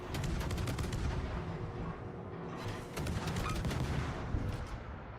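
Warship guns firing in the naval battle game World of Warships, a dense rolling barrage of booming shots over a constant rumbling bed, two sustained bursts separated by a brief lull.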